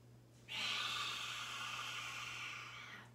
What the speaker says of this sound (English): that cleansing breath, let everything out, let it loose